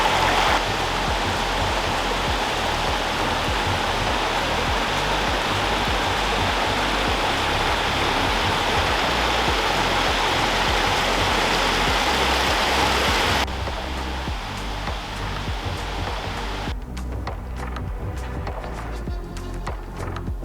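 A stream rushes across its rocky bed where a hiking trail crosses in Malla nature park, a dense steady roar close by. Partway through it drops abruptly quieter, then thins further into more distant splashing. No talk.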